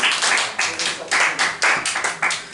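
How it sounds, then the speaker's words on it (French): A church congregation claps and cheers for their preacher, a steady run of dense, close clapping bursts rising and falling in waves, with voices mixed into the applause. "Nous allons maintenant acclamer notre papa qui va s'élever."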